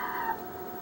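A cat's brief meow in a house, a faint short cry over a low room hum.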